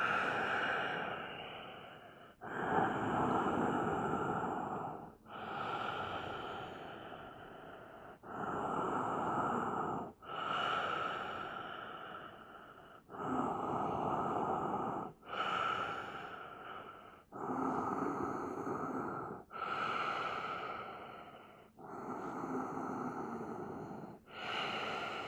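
Deep slow breathing held through a yoga locust pose, about nine long drawn inhales and exhales, close and steady with brief pauses between, no talking.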